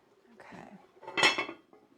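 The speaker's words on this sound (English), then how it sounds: "I'm going to move the soup back over here with my oven mitts." A pot of corn chowder is shifted across a stovetop with oven mitts, giving a short clatter of metal against metal and a brief bright clank. The clank stands out over quiet kitchen background.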